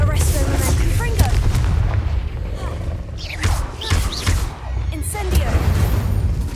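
In Hogwarts Legacy, a Confringo blasting spell sets off booming explosions and heavy thuds, several loud blasts over a dense rumbling background with a voice briefly calling out.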